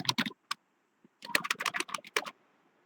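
Computer keyboard keys clatter in quick bursts as a short phrase is typed, close and crisp, with a brief pause in the middle and no talking.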